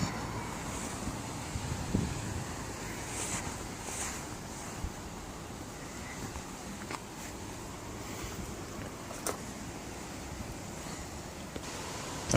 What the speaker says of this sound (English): The wind is blowing